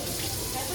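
Brief steady gush of tap water running into a kitchen sink while dishes are washed up, a close, even hiss with no clear break.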